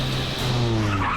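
A car power slides into a parallel parking spot, its tires squealing loudly and steadily for the whole moment over a rising engine note.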